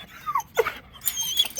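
A Belgian dog whines, squeals and growls in quick, close bursts with brief gaps between them.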